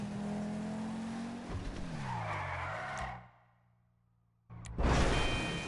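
A car in GTA V drives and skids, engine tone rising and wavering with tire squeal, cutting to near silence, then a loud burst of engine and tire noise returns.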